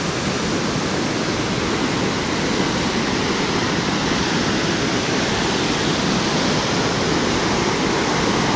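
Li Phi waterfall on the Mekong River in southern Laos roars as a loud, dense, unbroken rush of falling water, steady and close with no voices over it.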